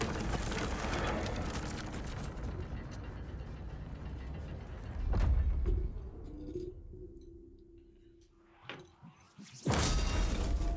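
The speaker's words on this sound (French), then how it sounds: "Oh, j'ai ouvert la porte principale." A heavy main castle door in a FromSoftware game grinds open with rumbling mechanical ratcheting and gear noise, a deep crash, then a long creak and clanks fading to quiet before a loud final surge.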